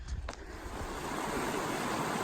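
Steady rushing water of a stream along a cold, damp hiking trail, a continuous close wash with a couple of brief knocks at the start and no talking.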